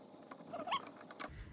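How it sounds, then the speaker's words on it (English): A small screw being unscrewed from the light cover of a Singer Simple sewing machine, with a few soft metallic clicks and creaks close up. "there's one screw in here that you have to unscrew"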